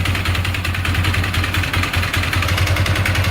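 A 2012 Polaris Sportsman 500 ATV engine idling steadily up close, a loud, even low thrum with a rapid regular pulse and some mechanical clatter throughout.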